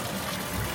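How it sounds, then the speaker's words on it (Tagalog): Water pouring from a spout at Ubud Water Palace in Bali, a steady close splashing gush that runs without a break through the brief moment. "Then there's water coming out here."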